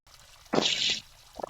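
Water from a shower spatters and runs in a short burst while someone bathes, a bright close hiss that swells for about half a second and then drops, followed by a few small knocks and splashes.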